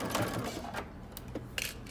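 A sewing machine stitches a dress seam at normal stitch length, giving a continuous mechanical whir with brief pauses and a couple of bursts, close and moderately loud.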